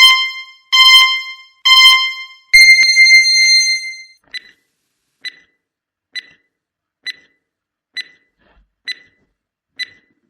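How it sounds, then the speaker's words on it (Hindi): A loud electronic quiz countdown timer starting: three sharp harmonic beeps, then a longer sustained tone, followed by a steady run of evenly spaced short ticks. "टाइमर स्टार्ट होता है।"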